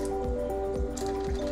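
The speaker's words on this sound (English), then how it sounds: "you're going to add water to this" Water poured and dripping into a chickpea meatball mixture, wet squishy splashes recurring in a steady rhythm over a sustained tonal hum, close and fairly loud.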